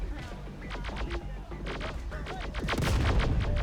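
Dense gunfire and thudding mortar blasts from a battle in the video game Terminator: Dark Fate Defiance, with rapid overlapping shots and crashes that build louder toward the end.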